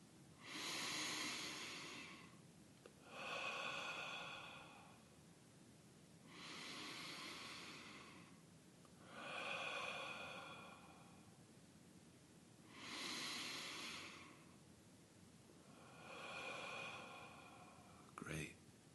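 Slow, deliberate breaths during a guided meditation: about six drawn-out, airy inhales and exhales, each lasting a couple of seconds with quiet pauses between them, close to the microphone and soft.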